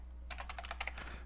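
A short burst of keystrokes on a computer keyboard while entering a command, close and clear over a low steady electrical hum.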